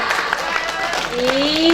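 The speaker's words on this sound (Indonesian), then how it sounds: "kita aplaus dulu untuk regu A" Audience clapping for Team A at a district-level Ramadan quiz competition, a steady wash of applause mixed with murmuring crowd noise and a rising tone near the end.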